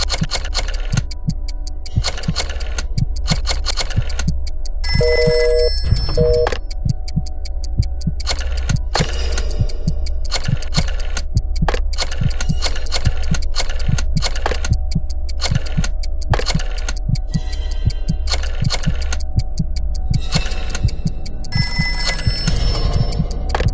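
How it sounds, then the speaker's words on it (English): A rotary phone in a Jackbox Games video game: a loud, steady stream of rhythmic ticking clicks, broken by a few short bell-like ringing bursts, with no talking. "Dial one of these numbers on your rotary phone before anyone else, or you die."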